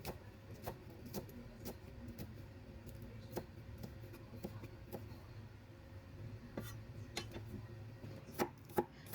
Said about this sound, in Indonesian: Kita potong kecil-kecil seperti yang di video.